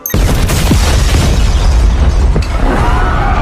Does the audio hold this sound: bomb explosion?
yes